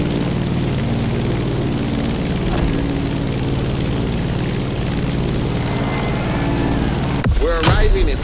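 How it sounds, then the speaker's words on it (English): Steady, loud propeller airplane drone in The Crew Motorfest as the aircraft descends to land near Honolulu, a continuous engine hum throughout with a brief burst of voice near the end. "Let's start our descent and get ready for the landing."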